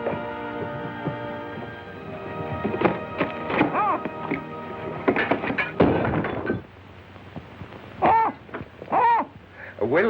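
An owl hoots several times at moderate distance, the repeated calls standing out amid shuffling and muffled voices in a drawing room scene of a 1938 mystery film.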